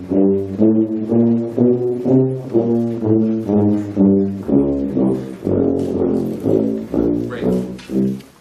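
A tuba ensemble plays a run of loud, low, rhythmic brass notes in short pulsing repeated groups, rich and close, with no voices over the playing.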